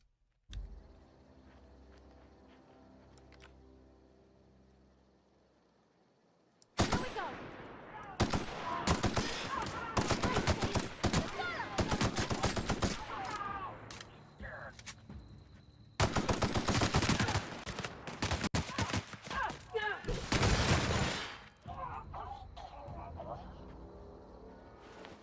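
Gunfire in The Outer Worlds video game: after a quiet low-key stretch, loud repeated bursts of rapid shots come in two dense volleys, with brief pauses and lingering game ambience between them.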